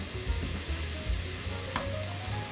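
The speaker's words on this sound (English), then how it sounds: "what fries out of the sausage you can use to cook the green peppers and onions" Sausage sizzling steadily in a pan alongside green peppers and onions, a dense continuous frying hiss with occasional soft stirring knocks, close and unbroken, with no voices.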